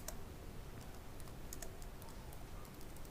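Quiet, irregular tapping of keys on a computer keyboard, a quick run of light clicks with short pauses between them, close and soft with a faint background hiss and no talking.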